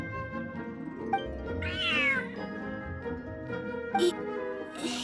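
A cat in the video game Genshin Impact meows near the middle with a rising, bending cry, heard over steady game music with a few soft clicks and chimes.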